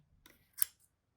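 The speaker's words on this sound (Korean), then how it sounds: "가운데 길 따라서 가위질을 축축축축 해주시면 돼요" A single quiet snip of scissors cutting along the centre path of a knitted pompom winter hat kit, close and brief in near silence.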